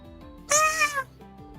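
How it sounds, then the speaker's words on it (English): A cat in Trails of Cold Steel IV gives a single clear, drawn-out meow lasting about half a second over quiet game background sounds. "Oh, there's a cat here."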